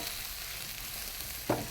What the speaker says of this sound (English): And now I'll give that whole thing a stir again.